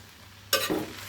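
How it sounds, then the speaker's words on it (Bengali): Taro leaves (kochu shak) hit hot mustard oil in a pan with a sudden loud sizzle, then crackle and hiss as they are stirred, close and without speech. "এবার আমি কচুর শাকগুলো দিয়ে দিচ্ছি সামুদ্রিক লবণ।"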